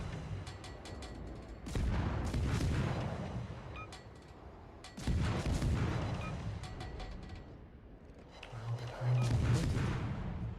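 Tank cannons fire in a video game: three heavy, booming shots a few seconds apart, each with a rumbling decay, plus faint mechanical clatter in between.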